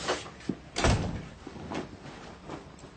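A door opens with a couple of clunks and a heavier thump of the latch and frame, close and moderately loud, followed by softer shuffling movement in a quiet room.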